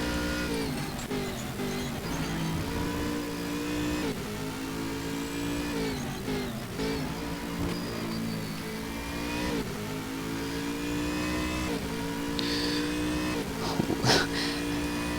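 GT3 race cars, including a Lamborghini, in the Stock Car Extreme video game at the Red Bull Ring, engines roaring loudly and continuously as they cross the finish line, with rising and falling revs and a brief sharp burst near the end.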